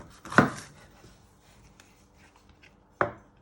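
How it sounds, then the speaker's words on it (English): A kitchen knife cuts down through a peeled vegetable on a board for spicy rice, giving two crisp, close chops separated by a quiet pause. "So you want to chop it down the middle,"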